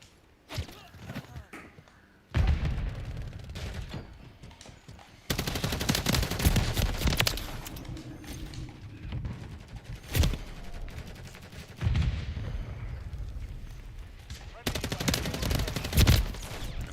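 Bursts of automatic gunfire from the MCW rifle in the video game Call of Duty Modern Warfare III, loud rattling volleys separated by short lulls, with a voice talking over parts of the action.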